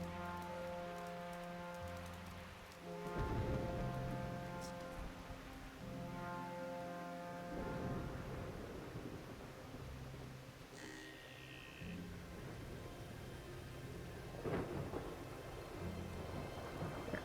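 Steady rain patters on surfaces in a game's thunderstorm, with low rumbles of thunder rolling through beneath a musical background, moderately loud and continuous.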